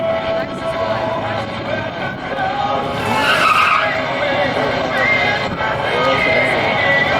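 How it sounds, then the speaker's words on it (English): Chevrolet Beretta cars racing down a drag strip, engines roaring and tires squealing loudly at close range, a sharp surge midway, with an announcer's voice over the track noise. "863 got a Beretta running down the Miller side of the track."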